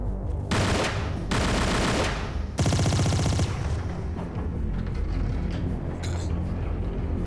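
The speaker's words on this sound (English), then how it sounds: "I didn't mean to shoot that" Handgun fire in the video game Tomb Raider, a loud rapid burst of shots followed by a second burst and a longer, denser volley, then fading into lower game ambience with a few faint clicks.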